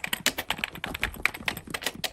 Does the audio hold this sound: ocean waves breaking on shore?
no